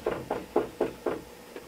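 Someone knocks on a door, six evenly spaced muffled raps in quick succession, close and moderately loud with no voices.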